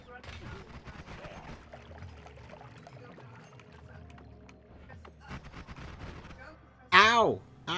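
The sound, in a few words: gunfire shooting at the player in video game Noita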